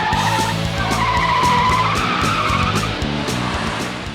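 Car tires squeal and skid loudly during police academy pursuit driving training, a sustained near screech over a revving engine, easing off toward the end with no talk.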